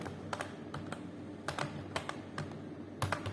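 Fingers tapping a computer keyboard while writing code, irregular quick keystrokes in short clusters, close and fairly quiet, with no voice.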